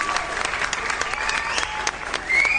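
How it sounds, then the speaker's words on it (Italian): Studio applause on an Italian radio show, a brief burst of steady clapping with crowd texture lasting a couple of seconds, moderately loud and free of talk. "qua un applauso"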